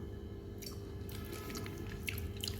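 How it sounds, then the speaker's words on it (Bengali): Someone eating bottle gourd curry for dinner, with faint, close, wet chewing and soft squishy bites coming in irregular bursts over steady background hiss. "এখন খাচ্ছি আমি লাউ তরকারি, মজার তরকারি, লাউ তরকারি"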